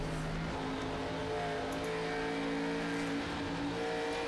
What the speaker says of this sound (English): You listen to the throttle control on board this machine as Derek tries to chase down Mark